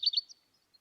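A yellow-rumped warbler's high, thin trill, a quick burst of a few rapid notes under a second long, clear and isolated.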